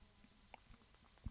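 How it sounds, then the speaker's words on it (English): A fingertip swiping across a matte screen protector makes a faint, dry, papery rubbing with a couple of light brushes and taps, quiet and close, with no voice present. "every swipe I can hear it, and it really sounds and feels like I'm touching paper"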